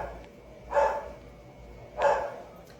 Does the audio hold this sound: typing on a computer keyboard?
no